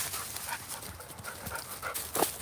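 A Rottweiler and a pit bull panting outdoors, a quick steady rhythm of breaths close to the microphone over faint background noise.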